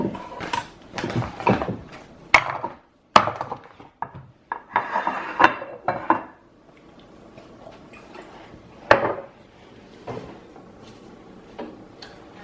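Meat for carnivore-diet beef jerky being handled in a bowl with Redmond real salt: sparse clinks, taps and knocks of bowl and utensils, close and fairly quiet, separated by pauses.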